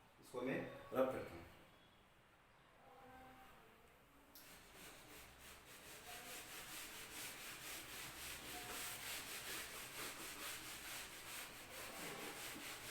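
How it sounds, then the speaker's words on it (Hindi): An object rubbed by hand to charge it by friction gives a steady, soft scraping that runs on for several seconds after a brief spoken line. "इसको मैं रब करता हूँ"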